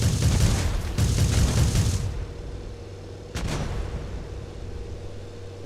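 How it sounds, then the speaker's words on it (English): Tail gun of a WWII aircrew bomber in Tower Unite video game fires a loud, dense rattling burst for about two seconds, followed by a single sharp report after a pause, with a low engine drone underneath. "if you sit on the seat, hit E, and you can fire the tail gun"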